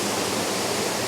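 Water flowing at a fish farm, a loud, steady broadband rush like a waterfall or large outflow, continuous and close with no break.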